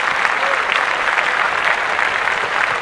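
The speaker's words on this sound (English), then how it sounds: "Clap that up." A studio audience on a podcast set claps steadily for a few seconds, a dense, even applause close by with no talk over it.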